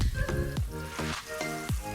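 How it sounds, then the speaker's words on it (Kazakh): Flour-coated zucchini slices fry in a pan with a close, steady crackling sizzle, broken by a few sharp spatters and pops. "Екі жағынан да қуырып аламын."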